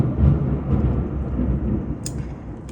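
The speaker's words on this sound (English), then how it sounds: "So it's funny that we have the tower during a thunderstorm right now." Low rolling thunder rumbling through a thunderstorm, a sustained deep growl that swells and fades with a faint patter of rain, fairly loud.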